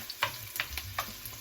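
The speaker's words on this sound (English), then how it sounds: "So we're just gonna put now our onion, the white onion." Chopped white onion sizzles in a hot cast iron casserole, a soft steady frying hiss broken by a few light scraping stirs, close and fairly quiet.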